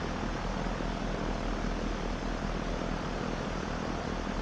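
Simulated propeller engine of an Alabeo M20R Ovation light aircraft, a steady, unbroken drone that stays at an even loudness throughout, with no voices.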